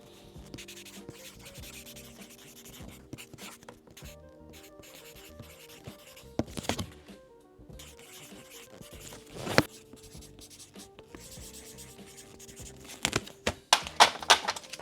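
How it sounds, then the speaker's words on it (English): Pen scratching and rubbing on paper as customers' names are written onto art orders, intermittent soft strokes with a few louder scrapes and rustles of packaging, close and quiet with no talk. "I'm gonna write their names"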